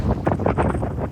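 Strong wind gusts roar during a predawn storm in Rio Grande, Brazil, reaching 146 km/h. The wind buffets the microphone as a loud, steady, rumbling rush with surging gusts and no talk.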